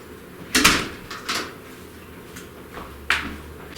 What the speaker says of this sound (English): I had to go answer the door.